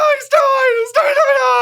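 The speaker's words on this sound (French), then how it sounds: "Un homme crie." A man screams, a loud, strained cry in two drawn-out bursts with a brief break between them, sounding close and alone.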